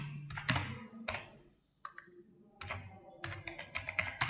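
Keys clatter on a computer keyboard while Fortran code is written, arriving in quick close bursts separated by short pauses.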